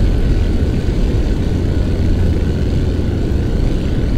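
Steady, loud broadband jet engine roar from a T-2 Buckeye taxiing on an aircraft carrier deck in a flight simulator, continuous and unchanging throughout with no talk.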